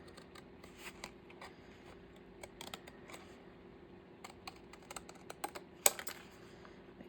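Scissors snip through thick paper tag stock for a turtle journal, giving a run of faint, irregular crisp clicks and crunches close by in a quiet room, with one sharper snap near the end.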